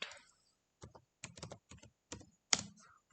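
A computer keyboard is typed on in short bursts of quick, close keystrokes with brief pauses between them while an SQL query is entered in MySQL.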